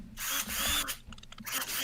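A power drill whirs close and loud in several short bursts with brief pauses between them, a rough buzzing run heard on its own.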